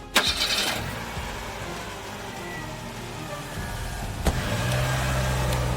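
A car engine cranks and catches with a sharp start, then idles steadily in the background; a second clunk, like a door or gear, follows before the engine settles into a low rumble.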